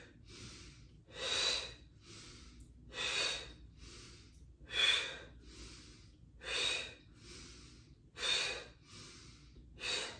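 Deep, audible yoga breathwork breaths, six forceful airy inhales or exhales spaced roughly every one and a half to two seconds with quiet pauses between, close and without speech.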